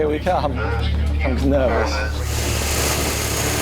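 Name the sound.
race car engines running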